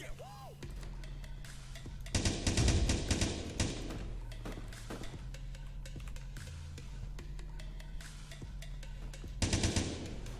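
Weapons fire in the block-building shooter game Blockstorm, with bursts of rapid shots and thuds as blocks break, louder clusters at the start and near the end over constant background game noise.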